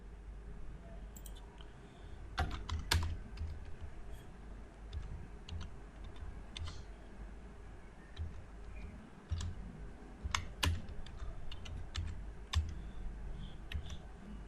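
Soft typing on a computer keyboard, with scattered quiet key clicks in irregular bursts over a low steady background hum.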